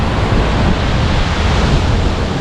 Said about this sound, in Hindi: you can actually hear the water gushing just beneath me